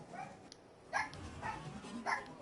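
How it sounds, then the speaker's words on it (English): Several dogs bark at a distance, giving four or five short, muffled yaps at irregular intervals. They are faint and sound like they come from another room, over a soft background hum. "I have to go see why my dogs are barking"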